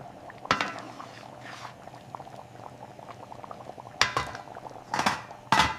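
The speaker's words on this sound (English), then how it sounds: "Bringing it to a strong boil." Vietnamese basa fish sour soup broth bubbles at a strong boil in a pot, a steady close roiling with several louder bursts of splashing and clatter.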